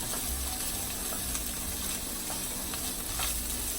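Hatch chilies fry in a pot with a steady, dense sizzle and crackle of hot oil, a constant bright hiss with faint pops and a low burbling underneath, close and fairly loud, no voices.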